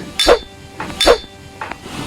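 Two bright glass clinks about a second apart during a New Year dinner toast, each followed by a softer ring, close and clear with no talk over them.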